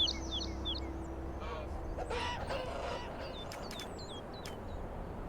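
Birds in Gothic 1 Remake giving repeated short honking, squawking calls in quick clusters over a low ambient drone, with a brief burst of noisy activity in the middle.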